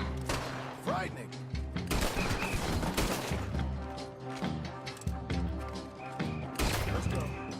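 Gunfire from firearms in the video game Red Dead Redemption 2, with loud broadband bursts recurring in several waves over a dense, busy game mix, and voices talking intermittently underneath.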